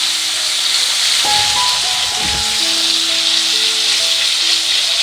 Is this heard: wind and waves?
no